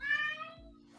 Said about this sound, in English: Someone's cat yelling.